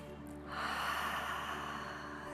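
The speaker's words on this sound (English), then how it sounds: "your breath should sound loud and you can feel that in the back of your throat" Loud ujjayi breath during yoga, a long hissing throat-constricted exhale rising after half a second and sustained close to the microphone, with no speech over it.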